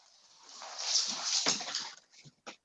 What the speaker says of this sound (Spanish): voy a ver si puedo apartar a la perra un poco